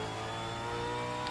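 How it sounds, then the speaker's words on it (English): Aussie V8 race car engine in a Phillip Island racing sim, revving steadily as it accelerates out of a corner, a continuous close, loud engine drone with no talk. "accelerate out of the corner as soon as you can"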